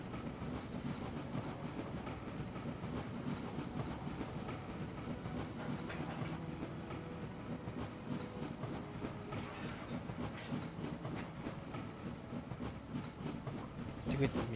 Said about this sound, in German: Da kommt jetzt ein Zug, da kommt der an.